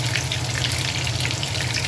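Breaded pork chops fry in hot fat with a steady, loud crackling sizzle that carries on without a break, close up, with no voices.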